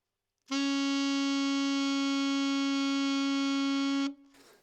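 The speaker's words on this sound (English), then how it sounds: "the B flat in the middle register on the sax sounds like this" A single held alto saxophone note, middle-register B flat, steady and clear for about three and a half seconds, then cut off, played alone.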